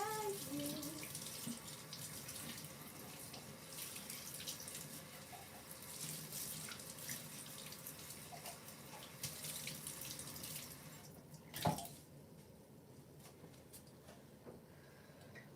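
Tap water runs steadily into a sink as a glass is rinsed out, a continuous close splashing hiss with a brief clunk near the end.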